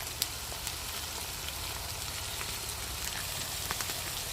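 Spices and curry leaves frying in hot oil in a pan for fish curry, a dense, steady close sizzle with occasional small pops and crackles.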